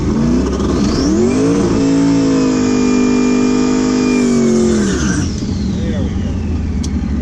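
A car engine at a track night revs hard with wheel spin, climbing to a loud, sustained high-RPM howl held for several seconds before dropping back down, close and dominating.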